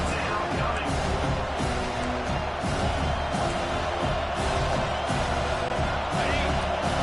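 A home crowd at a football game roars steadily while the defense tries to get off the field on third down. The dense, continuous crowd noise never lets up.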